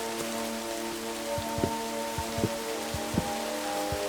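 Steady rain falls in a Minecraft hardcore survival world, a constant hiss of droplets close by with a low background hum and faint scattered ticks.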